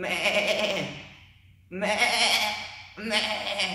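A preacher's voice imitates a sheep bleating, three drawn-out wavering bleats with a short pause between them, loud and close.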